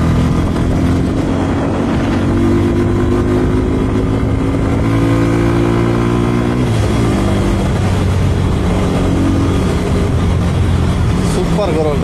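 A Bajaj N-125 motorcycle engine being ridden, loud and close, with rising and falling revs as gears shift, a drop around the middle and then a pickup again.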